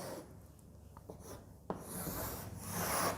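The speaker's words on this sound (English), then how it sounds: "So I am going to write the top view of a double riveted lap joint." A pen scratches across paper drawing the top view of a double riveted lap joint, with soft continuous rubbing strokes, a few sharp taps, and a heavier scraping passage near the end, close and quiet with no talking.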